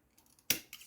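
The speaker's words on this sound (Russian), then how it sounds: "Обрезаю стойку." Shears snip a wicker stake during basket weaving, one sharp crisp cut followed by a smaller second click, close and alone.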